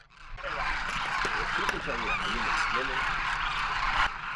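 A large flock of birds calls at a feeding dune in Rajasthan where millet and grain are laid out, a continuous honking, chattering chorus with a voice speaking over it.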